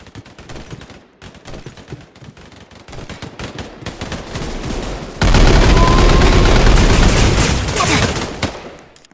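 Rapid automatic rifle fire from a Roblox shooting game, starting as scattered shots and building into a loud, dense sustained burst over the second half of the clip.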